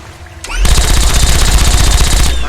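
Loud, close bursts of rapid automatic gunfire from the video game Fallout 3, a dense continuous rattle of shots lasting about two seconds after a brief lead-in.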